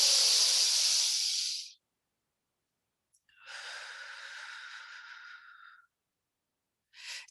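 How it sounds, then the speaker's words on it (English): Two long, audible breaths through the nose, each a soft airy hiss lasting a couple of seconds, separated by silence, then a brief third breath starting at the end; close and alone. "taking a nice, deep, conscious breath through your nose, holding it for a moment, and exhale"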